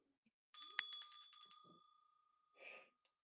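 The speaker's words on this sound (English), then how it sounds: "a little brass bell" A small antique brass bell dated 1891 is rung once close up, a bright shimmering ring that decays over about two seconds, followed by a short jingle and a tiny tap.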